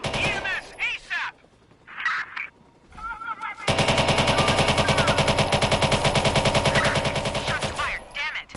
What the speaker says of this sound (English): Shots fired, damn it.